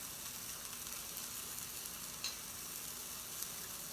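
Turkey burger patties, flattened thin, sizzle steadily in a hot pan with a continuous soft crackle and a few brief pops, close and alone.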